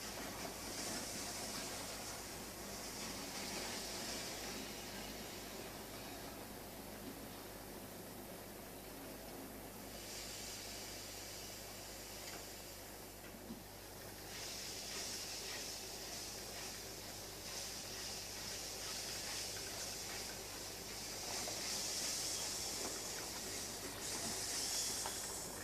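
A model Lord Nelson class steam locomotive, Sir Martin Frobisher, backs onto a train with two passenger luggage vans, giving a steady close rumble with a continuous hiss throughout and no voices.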